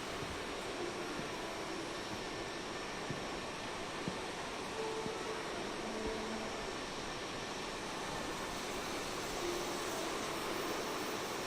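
An Aermacchi MB-339 jet flies in Microsoft Flight Simulator over Italy's west coast, a steady, even engine roar and broadband rumble holding without break throughout.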